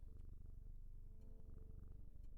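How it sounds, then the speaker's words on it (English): A pet cat purrs close and steady while being stroked, a low rhythmic rumble with no other sound. "Let me pet my cat."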